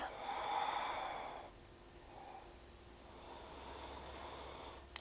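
Slow, deep yoga breaths during a vinyasa flow: a long airy inhale or exhale, a pause, a faint short breath, then another long steady breath, close and soft with no speech.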